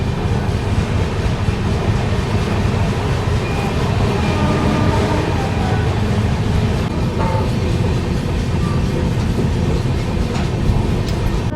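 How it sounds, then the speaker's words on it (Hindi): Onboard the Lucknow-Raipur Garib Rath express running on its tracks, a loud, steady rumble of wheels and carriage with continuous rattling and faint clatter, unbroken for the whole stretch. "तो अभी देखो उन्नाव जंक्शन निकली है ट्रेन"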